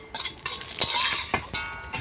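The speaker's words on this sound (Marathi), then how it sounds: "आता परत तेल वाढवलेलं आहे आणि आता त्या हिरवी वेलची टाकताय" Green cardamom pods dropped into hot oil for homemade kala masala, giving a steady close sizzle with scraping stirs and occasional metallic clinks of a spoon against the pan.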